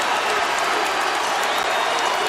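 Basketball arena crowd erupting in loud, sustained cheering and applause as James Harden breaks Calvin Murphy's scoring record, a dense continuous roar throughout.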